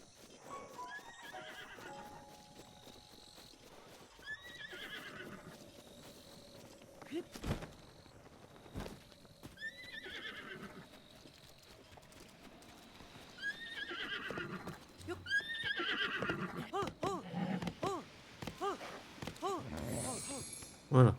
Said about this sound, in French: Voilà, on a un cheval.